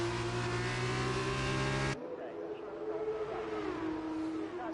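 F2 race cars lapping Monza in a racing video game, a loud sustained engine whine with layered harmonics that cuts abruptly to a quieter, distant engine drone shifting pitch as cars battle.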